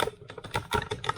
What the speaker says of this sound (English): Loads of clicking and crunching, sorry about that, because that's the tripod creaky crunchy.